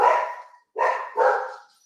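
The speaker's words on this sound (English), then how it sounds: "Oh, the dogs are about to go nuts." Dogs bark in three loud, close bursts, the first long and fading, then two more in quick succession after a short pause, with no talk.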